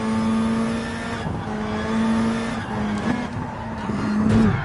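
A car drifting in GT Sport, driven in VR: a loud, sustained engine drone holds a steady pitch while tires squeal and scrub through the slides, rising slightly at the end, with no talking.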